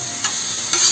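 Masala sizzles in a hot pan for tava pulao with two quick scraping stirs of a spoon over a steady frying hiss, heard up close.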